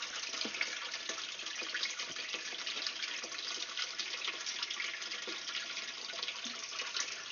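Water pours steadily into a fish tank, a continuous close splashing rush with no pauses and no talking.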